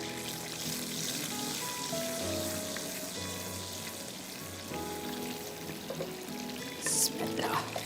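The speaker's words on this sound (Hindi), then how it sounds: "और उसको हम 1 मिनट के लिए मिर्चियों के साथ फ्राई करेंगे।" Green chillies fry in hot oil with a steady, crackling sizzle that keeps going throughout, with a few small clinks and a brief splashy burst near the end.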